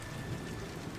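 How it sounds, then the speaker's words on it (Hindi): Heavy rain pours down on a mud house at night, a dense, steady hiss of falling water with no voices. "एक रात जब सभी सो रहे होते हैं, तभी बहुत जोरों से बारिश शुरू हो जाती है"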